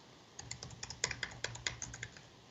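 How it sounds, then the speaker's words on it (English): Fairly quiet, close-up clicking of a computer keyboard as someone types in a terminal, a quick irregular run of keystrokes over a low steady hum. "actually start typing in the terminal"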